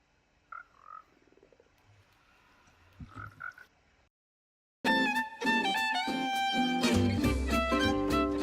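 Minecraft frogs croak in short bursts during the first half of the clip. A loud stretch of music follows after a brief silence.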